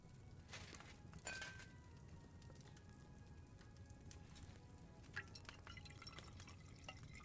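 Liquid poured while brewing a potion with ground chamomile in the video game Kingdom Come: Deliverance II, faint drips and a soft trickle with a few light clinks over quiet ambience.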